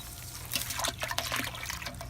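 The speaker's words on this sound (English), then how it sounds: "I'm gonna go ahead and throw some water in here just to keep it, just dilute it out and flush it all out" Water poured over rusty traps to flush and dilute the cleaning residue, a soft, continuous splashing and trickling with small irregular spatters, fairly quiet and close.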